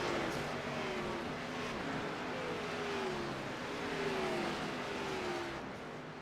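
A pack of race cars leaves pit road at Daytona in a sim racing game, engines droning loud and steady as several cars rev and pass, their pitches sliding past one another.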